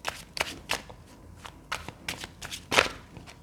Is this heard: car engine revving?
no